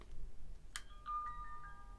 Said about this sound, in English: you get a little chime